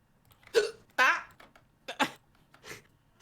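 A run of sharp vocal bursts, consistent with hiccups from a man, several spaced jolts over a few seconds, close and fairly loud, with a little voice sound among them.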